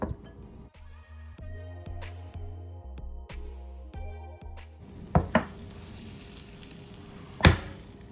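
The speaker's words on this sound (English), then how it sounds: "it's sizzling, baking and looking so good" Barbecue chicken sizzling softly as it bakes in a hot oven, steady crackle with a few sharp clinks of utensils and a low hum underneath.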